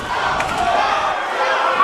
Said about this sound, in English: The crowd chanting for the challenger.